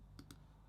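Two quick, light computer mouse clicks close together, crisp and near against a quiet background.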